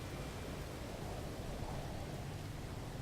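Storm with rain and caustic winds on a planet in the No Man's Sky survival video game, a faint, steady hiss of wind and rain with a low rumbling undertone, constant throughout.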